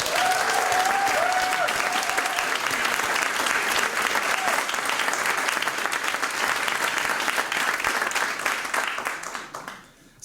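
Loud audience applause greets artists Art Spiegelman and Joost Swarte at a panel talk, dense steady clapping for about eight seconds that then tapers off, with a few faint voices underneath early on.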